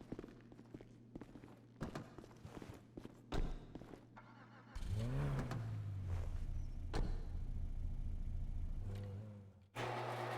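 A car called the Warner in a video game garage: clicks and door-like thumps give way to an engine starting up and running steadily at a low idle, with a brief pitch rise, then a sudden cut and another start.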